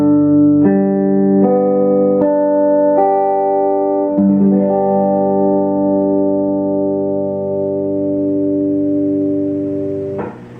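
A guitar barre chord held at the 3rd fret, its strings strummed several times in a steady rhythm and left ringing, loud and close with no talking.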